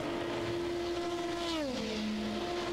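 A Le Mans prototype race car engine holds a high steady note at the 24 Hours of Le Mans, then drops in pitch as the car passes, loud and alone with no talking.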